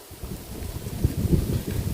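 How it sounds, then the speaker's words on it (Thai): Steady wind buffeting an outdoor microphone, producing a continuous low rumbling roar with irregular gusty swells and no other clear sounds. "ลมอีกแล้วพี่น้องเนาะ กันลมกันอย่างนี้"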